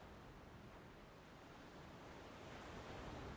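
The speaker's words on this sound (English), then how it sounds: "I love the sound of waves" Ocean waves rolling in the video game Shadow of the Colossus, a steady, soft, broadband wash of surf with no talk, faint and continuous throughout.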